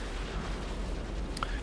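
A rumbling explosion blast in Lost Ark's Brelshaza Gate 4, a dense sustained boom with a small pop near the end, loud and up front.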